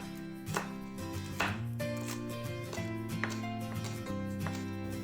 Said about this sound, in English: Start by finely chopping some garlic and scallions.